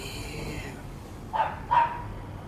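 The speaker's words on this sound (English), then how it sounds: "The dogs are barking in accordance." Dogs barking outdoors, two quick distinct barks in close succession at moderate distance over a low background hum.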